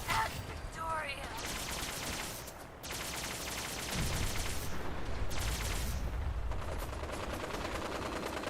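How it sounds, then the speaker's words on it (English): Heavy gunfire and grenade blasts in the video game Fallout 4, dense continuous rapid shooting with booming explosions, loud and sustained, with a voice speaking over the battle. "Who is shooting at me? A lot of grenades."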